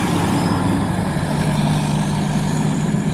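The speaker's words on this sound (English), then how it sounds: "I really do love all the sounds of traffic and stuff." Heavy truck rumbling along a busy street amid traffic, a low steady engine drone close by with broad road noise, no voices.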